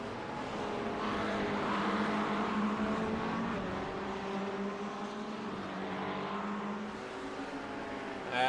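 GT3 race cars at Brands Hatch roaring past one after another: a continuous engine drone that swells and fades as cars pass, heard from a distance at moderate loudness.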